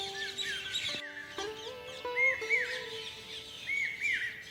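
Asian koel calling along the Narmada riverside during a walking pilgrimage, repeated rising whistled notes with other birds chirping around, fairly distant and clear.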